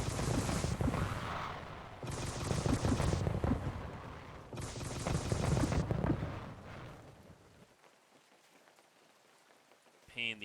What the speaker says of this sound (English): Its high energy core allows it to fire plasma projectiles.